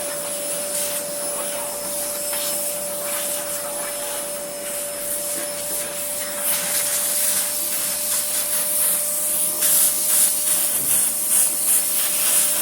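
A repaired vacuum cleaner runs steadily with a loud continuous hiss and a high whine, the airflow roughening slightly as it moves, with no voices.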